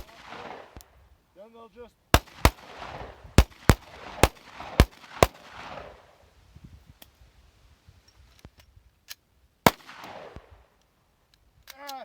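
Glock pistol shots crack out close and loud, a rapid string of sharp single reports with short gaps, then a few more spaced shots later. Someone talks briefly between the bursts.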